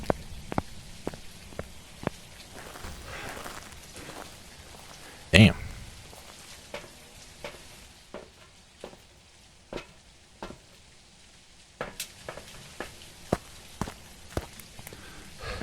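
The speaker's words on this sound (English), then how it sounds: "I could hear the footsteps pretty good." Ghost footsteps in the video game Phasmophobia: a string of sharp, evenly spaced thuds, fairly close and distinct against a quiet background, with a brief spoken remark partway through.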